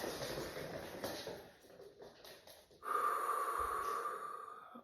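A person breathing in deeply during a guided positive-affirmation exercise, a long soft inhale rising to a louder sustained airy rush near the end, close and alone without talk.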